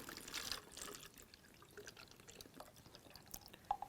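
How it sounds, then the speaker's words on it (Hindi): Water glugging and splashing out of an upside-down bottle, with faint irregular dripping and trickling, quiet and close, no talking. "इसको हम लोग ऐसे उलट करके लगाते हैं, तो देखिए कैसे निकल रहा है पानी"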